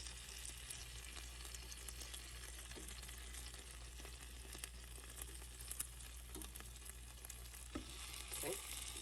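Chicken wings brushed with sauce sizzle and fry in an Instant Pot, giving a faint, steady crackle with occasional small pops and no talking.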